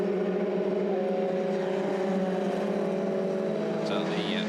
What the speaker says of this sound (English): First few cars start to come past our commentary position